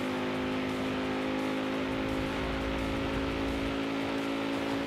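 A Land Rover Defender engine in a roleplay driving game runs steadily, a loud continuous drone with a strong low tonal hum that holds throughout without clear revving surges.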